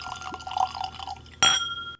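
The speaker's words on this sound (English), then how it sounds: "Ooh, that was a nice little pour." Loch Lomond whisky poured into a glass, a soft liquid trickle followed by a sharp glassy clink near the end, close and moderately loud with no talking.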